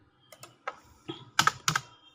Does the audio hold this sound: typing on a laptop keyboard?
yes